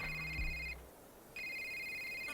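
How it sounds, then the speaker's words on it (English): Cell phone ringing in the indie video game A Short Hike: a bright electronic ring tone sounds twice, with a short gap between bursts, loud and close with no voices. "all of a sudden we get a phone call"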